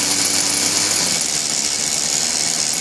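A Kyosho Concept 30 nitro RC helicopter engine runs at a loud, steady high-pitched buzz, unbroken and close throughout.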